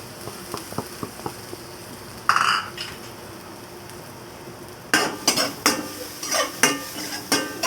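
Garlic sizzles in a pan of oil and butter, with a brief hiss as it hits the fat, then repeated clinks and scrapes of a utensil stirring against the pan, all close and without voices.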